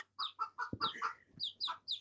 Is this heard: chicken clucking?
yes